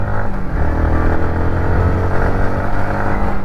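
A Yamaha MT-15 motorcycle engine, whose revs are slow to settle once the throttle is released, drones loud and close with a steady, heavy rumble and no voices.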